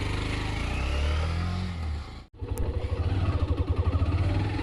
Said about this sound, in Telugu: ఇప్పుడు మనము హీరో ఎక్స్ట్రీమ్ 125R మనం రైడ్ చేసుకుంటూ మాట్లాడదాం